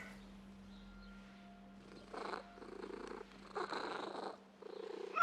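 A cat purrs in Assassin's Creed Mirage, close and soft, with rhythmic rasping bursts of breath repeating over a quiet low hum.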